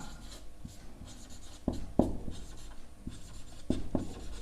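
Pen or chalk tapping and scratching on a classroom board during a maths lesson, irregular sharp strokes and taps, close and fairly quiet, with no talking over them.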